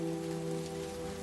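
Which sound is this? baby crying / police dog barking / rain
rain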